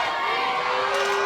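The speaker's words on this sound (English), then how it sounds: "Ventura is asking for the crowd to get more involved, and they're responding positively." A roller derby crowd at a bout cheers and shouts in a sustained roar with a few higher yells rising over it, heard from inside the venue at moderate loudness.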